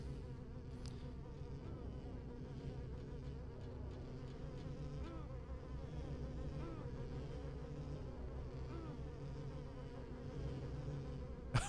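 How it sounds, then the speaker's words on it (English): Bat mosquitoes in the video game Silent Hill 4 give off a continuous insect-like buzzing drone, steady and fairly close, with no speech over it. "Oh, I forgot about the bat mosquitoes."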